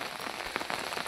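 Rain falls steadily in a cold forest in the early morning, a dense hiss of drops tapping on surfaces with no pauses.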